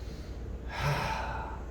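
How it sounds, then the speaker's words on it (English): A deep inhaled breath during a calm Tai Chi exercise, a single soft rising rush of air that swells midway and holds steady, close and fairly quiet. "Nice breath in."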